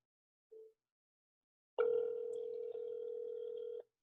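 PhoneBurner software dials a call on speaker: a brief soft beep, a pause, then a loud steady dial-type tone that holds about two seconds with a slight hiccup midway before cutting off cleanly.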